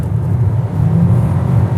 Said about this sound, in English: The Kona accelerates pretty quietly